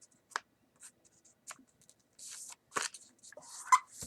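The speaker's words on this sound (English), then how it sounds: "fold this part down" Paper being folded while making a flyable paper F-14 airplane, soft scattered creases and rustles with a few sharper crinkles, close and quiet with no talk.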